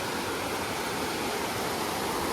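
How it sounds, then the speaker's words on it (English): The Rio Java at Las Cruces, a cold stream, rushing as a steady broadband wash of flowing water, close and continuous with no voices. "Check out this awesome stream I have to cross. This is the Rio Java"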